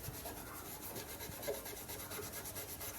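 A hand rubs down car body paint before a respray, making a steady, continuous scratchy abrasive rasp, close and fairly loud, with no talking.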